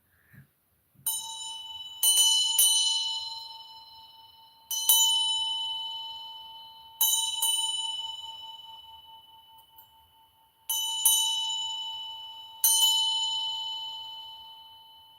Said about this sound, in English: I'm going to ring a bell.